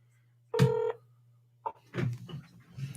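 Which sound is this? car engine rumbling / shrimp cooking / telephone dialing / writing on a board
telephone dialing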